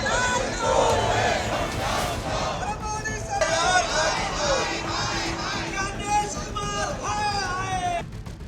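A large crowd of supporters at Rahul Gandhi's yatra rally shouts and chants together, loud and sustained, with overlapping voices, cheers and babble throughout.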